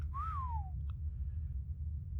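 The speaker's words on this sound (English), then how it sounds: "We're going to have to use the whistle commands" A single short whistle in the ARK survival game, rising then gliding downward, sounds once over a low steady rumble of background ambience, followed by a faint soft tap.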